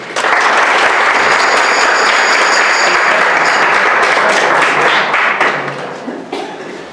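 Audience applauding to welcome a speaker at a college talk, a dense, loud burst of clapping that holds steady for several seconds before tapering off.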